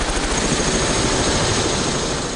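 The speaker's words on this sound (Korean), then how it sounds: "지금 이제 헬리콥터를 타고 두바이를 하늘에서 보려고 나가고 있습니다" A helicopter lifts off for a sightseeing tour over Dubai, its rotor and engine roar loud and steady throughout with no pause.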